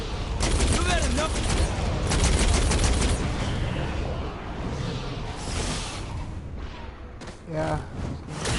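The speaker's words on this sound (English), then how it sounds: "This game has you shooting aliens." Gunfire aimed at aliens in the video game Saints Row 4: a steady barrage of rapid shots with booms and whooshes mixed in, loud and continuous throughout, with a voice speaking underneath.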